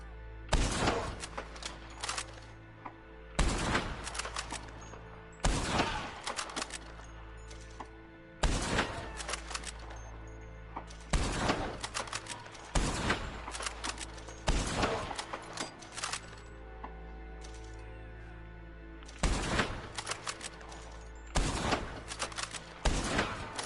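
Shotgun blasts ring out in a Red Dead Online gunfight, about a dozen sharp, loud booms spaced a second or two apart, some in quick pairs, over a quiet low hum between shots.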